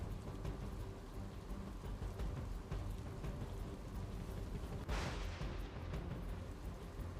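Heavy monsoon downpour in Gujarat pours steadily and loudly, drumming on surfaces, with a rumble of thunder rolling in partway through.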